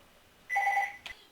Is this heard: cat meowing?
no